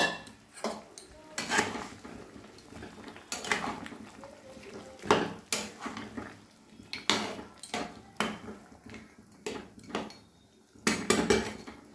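Chicken cooking in a salted pot, with metal utensils clattering and scraping against the pot in irregular bursts, close and fairly loud, separated by short pauses.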